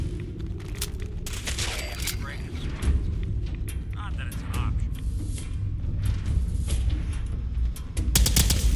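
Automatic plasma weapon firing in Fallout 4, with rapid bursts of shots and sharp reports recurring throughout over a busy game soundscape, including a heavy cluster near the end.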